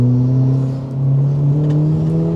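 A Ford Focus RS Mk1 accelerating hard on an open road, its engine note rising steadily in a loud, close, continuous drone with a slight dip before pulling on again, no voices.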